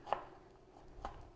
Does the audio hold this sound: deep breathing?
no